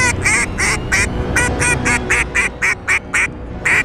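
A duck call with a Mylar reed blows a rapid run of about a dozen sharp, nasal quacks in a regular rhythm, loud and close, alone without any voices.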